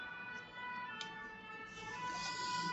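A fire engine siren wails from a fire station across the street, a faint sustained tone carried through open windows that swells slightly toward the end.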